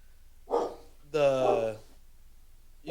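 Spike, a guard dog, lets out a short bark followed by a longer, louder bark-like howl, fairly close and alone, with another bark starting just as the sound ends.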